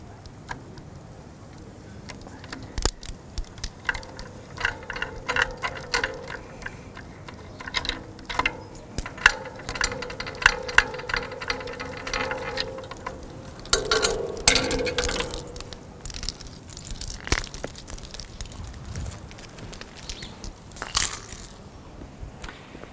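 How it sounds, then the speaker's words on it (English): Cable connectors are worked loose from the interface module of a Paradigm Connect100T satellite terminal, with close, irregular metallic clicks, rattles and clatters running in scattered bursts throughout, and no talking. "undo the cable connectors from the Paradigm interface module,"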